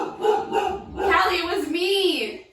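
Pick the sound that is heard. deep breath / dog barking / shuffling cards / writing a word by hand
dog barking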